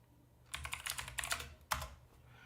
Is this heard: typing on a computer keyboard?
yes